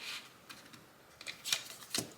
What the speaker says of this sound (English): I'm gonna shuffle them.